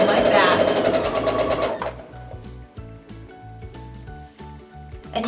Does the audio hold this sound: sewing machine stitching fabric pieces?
yes